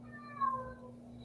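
A cat named Sophie gives a single short, clear meow at close range over a steady low background hum.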